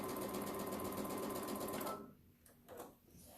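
A sewing machine stitches a seam through quilt fabric, a steady dense mechanical whir for about two seconds that then stops, leaving soft handling noises and quieter rustles.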